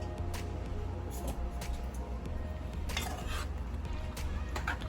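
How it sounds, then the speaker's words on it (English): Milk is stirred into a fried chicken batter in a bowl, giving soft, continuous scraping and sloshing with scattered light clinks of a utensil against the dish, close and fairly quiet. "So now you'll just incorporate everything, mix it up really well"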